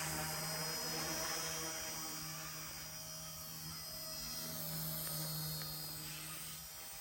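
A Blade Infusion 120 RC helicopter hovers nearby with a steady, faint whirring buzz of rotor and electric motor that rises and falls slightly in level.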